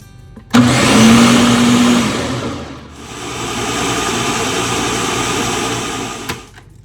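A blender grinds dosa batter in a loud, steady whirring roar. It dips briefly midway, then runs on before stopping, with no talk.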